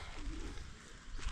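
Birds call and coo among trees beside a road construction site, a soft pigeon- or dove-like cooing over a steady low outdoor hum, fairly faint and distant with no talk.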